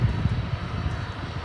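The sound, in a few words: aircraft at DFW Airport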